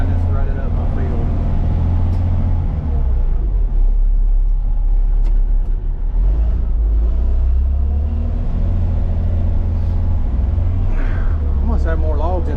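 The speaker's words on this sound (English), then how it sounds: "This damn truck, I tell y'all what. Get stuck on wet grass." A truck stuck on wet grass in a rutted field revs its engine hard, a loud, steady low rumble that holds throughout with rising strains, while someone talks over it.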